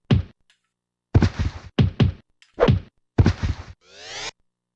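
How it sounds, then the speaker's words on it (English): Blunt sword thumps on enemies in the video game Mutant Rampage: Bodyslam, a run of heavy whacks in short bursts, loud and close, ending in a rising swoosh. "I like the sound of the sword is making. It's just a thump."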